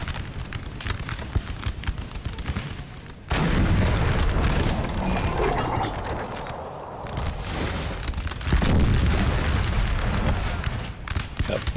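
12-pounder cannons fire canister shot across a Napoleon Total War battle: loud, dense booming volleys with heavy rumble, a sharp salvo near 3 seconds and another near 8.5 seconds, continuous battle noise between them.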